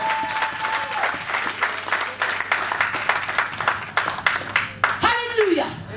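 A congregation claps during a thanksgiving church service, rhythmic applause from a crowd under a speaking voice, with an organ-like tone and a sung note near the end.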